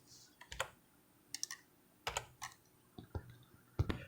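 Numbers tapped out on a computer keyboard in short irregular bursts of crisp clicks, close and fairly quiet, with pauses between groups of keystrokes.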